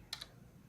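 Two quick, soft keystrokes tap on a computer keyboard in close succession, faint and alone against quiet room tone.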